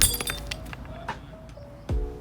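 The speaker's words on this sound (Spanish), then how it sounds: "vamos a estrellar este vaso de vidrio" A glass drinking glass dropped and shattering, with a scatter of bright clinks and tinkles of pieces settling, then a sharp heavier impact near the end, close and clear with no talking.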